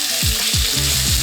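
Chicken tenderloins laid into hot olive oil, a loud close frying sizzle with a few low thuds as pieces drop into the pan.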